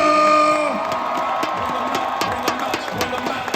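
A large crowd at the Bassmaster Classic fishing event cheers and whoops for angler Greg Hackney, with a loud, continuous roar, scattered shouts and one voice calling out on top.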